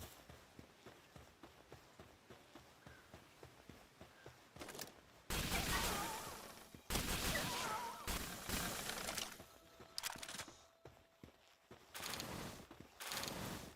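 A player's gun firing in a video game: steady, quiet footsteps come first, then loud bursts of gunfire break in repeatedly in several heavy clusters.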